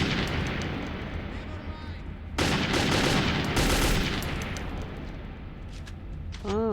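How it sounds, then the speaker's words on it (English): Enemy gunfire in Metro 2033 erupts as a dense, loud burst of shots and blasts over a rumbling game soundscape, then tapers off into scattered cracks. "Oh, they're shooting at me from up there."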